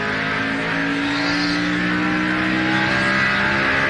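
NASCAR race cars running at speed on track during the 2001 Autolite/Fram 250, a steady loud engine roar with sustained droning tones and a slowly shifting pitch, continuous and close.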